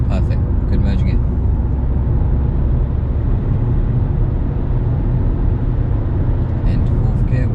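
Steady broadband road and engine rumble from a learner driver's car accelerating along a slip road and merging onto a UK dual carriageway, loud and continuous, with an instructor talking over it.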